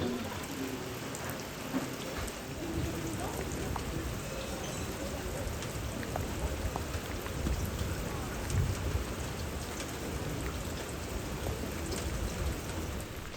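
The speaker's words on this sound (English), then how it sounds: "the thunder has us a little bit nervous" Steady rain pours down around an Alpine chalet near Annecy, with low rumbling thunder rolling beneath the downpour across the whole stretch, constant and fairly loud with no clear single crack.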